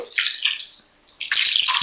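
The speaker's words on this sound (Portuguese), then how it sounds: "Agora eu vou colocar um pouquinho de água" Water poured from a container into a cooking pot while making cuscuz paulista, a close, splashy hiss in two bursts separated by a short pause, with no voices.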